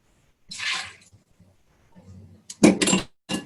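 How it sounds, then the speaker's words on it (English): A quarter cup of water poured over raw cashews in a home kitchen, a brief splashing gush followed by a louder burst of pouring and a short final splash, close by with faint background noise. "I'm going to put in a 1/4 cup of water."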